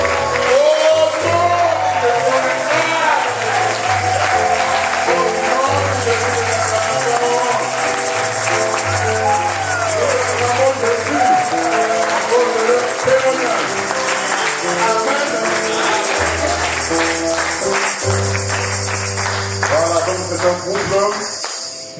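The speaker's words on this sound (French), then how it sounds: "On va s'acclamer." A church congregation at a gospel service applauds and cheers loudly for a pastor couple, sustained clapping and shouts over a steady bass-heavy music accompaniment, with voices calling out through the crowd.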